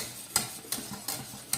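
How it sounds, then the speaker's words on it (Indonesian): Flour cooking in butter in a pan is stirred with a utensil, giving four sharp scraping strokes at a steady rhythm, close and fairly quiet, with a faint sizzle underneath. "Setelah terigunya ini kita masak dengan mentega, lalu kita aduk"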